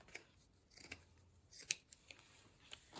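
Scissors snipping through a piece of lace in a few short, crisp cuts, close and fairly quiet, with soft handling rustles between the snips.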